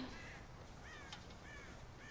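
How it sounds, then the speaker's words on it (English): Crows caw repeatedly in the video game Red Dead Redemption, with several hoarse calls over a low, steady game ambience, moderately near and fairly quiet. "God damn crows!"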